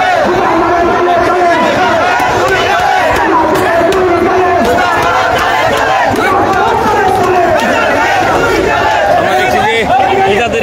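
Protest march crowd chanting in unison in front of the DNCC building in Dhaka, a loud, dense chorus of shouting voices with rhythmic slogan calls sustained throughout, close and overwhelming.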